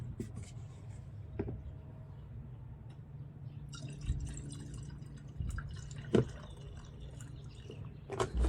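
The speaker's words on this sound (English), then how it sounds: "when you still have sealer left over, just put it back in the bottle" Leftover Dynacam Impregnator grout sealer poured back into its gallon bottle: a quiet trickle with scattered drips and small splashes, ending with a few sharper liquid plops.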